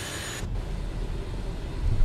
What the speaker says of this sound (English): We're flying the Falcon 50